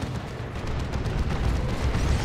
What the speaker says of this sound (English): Manticore Strike on the Havoc.